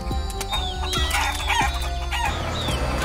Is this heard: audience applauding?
no